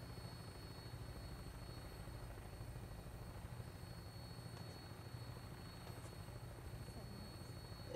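A Brotherhood of Steel vertibird in Fallout 4 flies with a steady whirring rotor drone and engine hum that holds constant and faint for the whole stretch.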